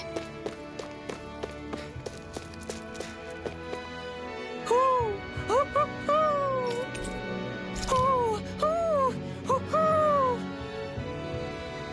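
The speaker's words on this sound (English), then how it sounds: "I'm surprised there are owls here, too." Owls hoot in Tales of Arise, several rising and falling calls repeated in pairs from the middle onward over a bed of ambient game sounds and footstep-like taps.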